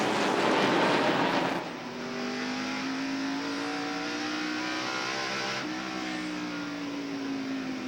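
Onboard audio from Kyle Petty's NASCAR stock car racing at North Wilkesboro Speedway in the 1996 Tyson Holly Farms 400, its engine droning loud and steady at high revs, with a brief lift and a shift in pitch midway.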